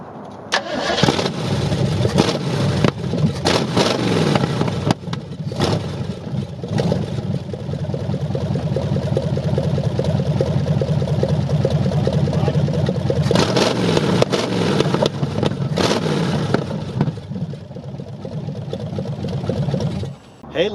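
A Chevelle pulled from a junkyard after 40 years cranks and fires up, then runs loud and rough with repeated revs and a few brief dips, with a voice talking at times over the engine.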